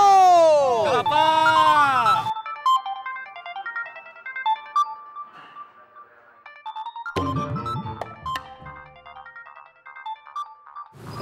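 A mobile phone ringtone from a friend's call plays a bright, looping electronic melody, loud and close. Voices speak over the opening, and a second burst of talk comes partway through.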